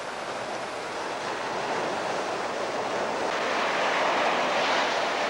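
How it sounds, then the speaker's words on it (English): Steady ocean surf rolls onto a log-strewn beach at Point Granville, looking out toward the cape, a continuous broad wash of breaking waves with wind rumbling against the microphone and no voices. "Here's one look from the beach, looking out towards the cape at the ocean."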